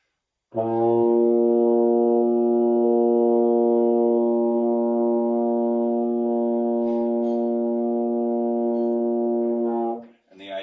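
A baritone horn holds a single low B flat, a steady brass note sustained for about nine seconds, rich and even, before fading out; a brief breath or voice follows.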